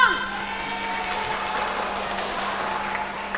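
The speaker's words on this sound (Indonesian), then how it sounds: "Kasih aplaus dong untuk mereka." A crowd applauds children at a Sunday school Christmas celebration, a steady dense clapping that holds at an even level for a few seconds, with faint voices mixed in.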